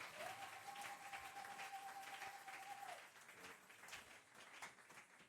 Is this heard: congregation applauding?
yes